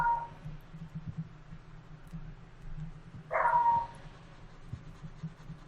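A dog barks faintly at a distance, two short sharp barks a few seconds apart, over a low steady background hum.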